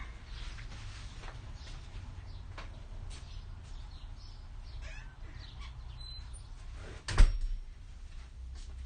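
A door being shut in a quiet indoor room, heard as a single soft thud near the end after a long stretch of faint background noise.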